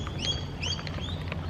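Birds chirping outdoors on a hot day at an athletics club track, a few bright, short tweets repeating over a steady wash of background noise.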